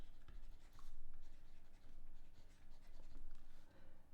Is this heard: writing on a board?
yes